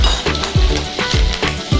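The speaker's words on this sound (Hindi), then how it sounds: "अब इसमें मैं डालूंगी हरी मिर्च।" Green chillies dropped into hot oil already crackling with mustard seeds and asafoetida, giving a steady close sizzle with a few stirring scrapes and light clinks of a spoon against the pan.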